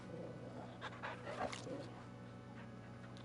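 Torgal, a wolf companion in the video game Final Fantasy 16, pants in a quick, faint rhythm over steady game background noise, with a brief soft whimper partway through.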